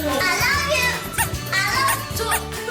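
A TWICE member imitating a baby, making short high childlike babbling and cooing sounds in quick bursts, with a little talk mixed in.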